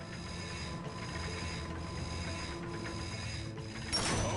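A bolt crank spins in Ratchet & Clank with a steady mechanical ratcheting clatter that pulses regularly, then ends in a brighter burst of noise as the spin completes.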